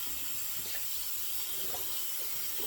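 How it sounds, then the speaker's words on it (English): Hot tap water runs steadily to rinse soap out, a continuous close hiss of flowing water with no voices. "Now we're going to really rinse it well"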